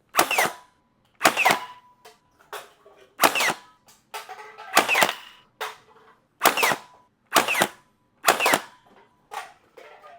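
An X-Shot AEB Piston Pump toy blaster fires about ten sharp, loud snapping shots at a steady pace of roughly one per second, each followed by a short mechanical rattle.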